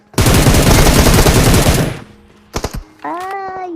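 Rapid automatic gunfire from PUBG Mobile rattles out in a dense, loud burst for about two seconds, followed by a few separate closer shots and a short tonal in-game sound.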